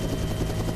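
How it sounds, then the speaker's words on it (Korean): Military helicopter cabin noise at about 7,000 feet during a Marine Corps high-altitude jump flight, a loud, dense, unbroken rotor and engine roar with rhythmic throbbing pulses. "더욱이 헬기 소음 때문에 의사소통도 어렵다."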